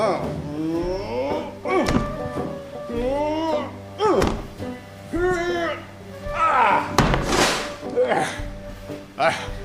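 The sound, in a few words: door being broken down in a radio drama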